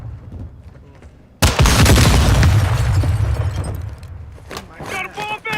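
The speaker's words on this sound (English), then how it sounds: "Suicide bomber, boom." A suicide bomber's explosion in Modern Warfare 2 erupts as a sudden loud boom after a quieter stretch, rumbling and crackling for a few seconds before gunfire and game effects take over.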